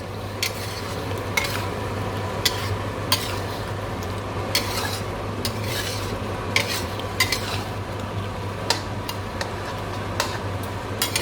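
Prawns simmering in a red capsicum curry sauce in a pan give a steady close sizzle, with a low hum underneath and sharp repeated clicks and scrapes of a utensil stirring through.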